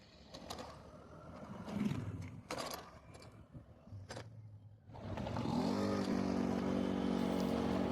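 A motorcycle on a road near Bogor speeds up, its engine rising to a loud, steady drone with a climbing pitch after a stretch of lighter road noise and passing sounds.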